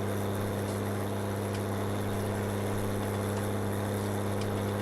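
Small tractor engine in Farming Simulator 19 labouring under heavy load, a loud continuous low drone with a steady hum that never lets up, no talking over it.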